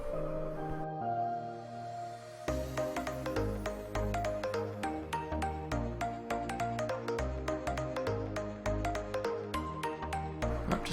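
A phone ringtone plays a repeating melodic pattern, loud and steady throughout with no talking over it.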